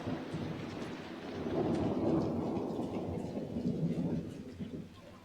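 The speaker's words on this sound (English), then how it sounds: "Can I be struck by lightning?" A low rolling rumble of thunder swells and fades in Dragon Age: Inquisition, mixed with a soft wash of rain, building to a peak midway and then easing off.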